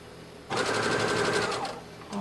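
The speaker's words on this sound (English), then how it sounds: "I'm going to stitch that hem" A sewing machine runs a quick, steady burst of stitching along the hem of an 18-inch doll's dress, close and clear, lasting about a second and a half.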